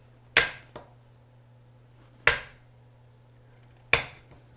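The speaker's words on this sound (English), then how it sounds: "I'm slicing them up in 1/2 inch chunks as I go along through the butter" A knife cuts through cold strips of butter for a pie crust, landing three sharp, crisp chops on a board about two seconds apart, each followed by a quick smaller tap, over a faint steady hum.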